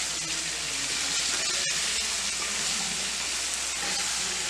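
Chopped potatoes and carrots frying in an Indian-style pan for sabzi while being stirred, a dense continuous sizzle and hiss with a brief scrape mid-way, close and loud, no voices.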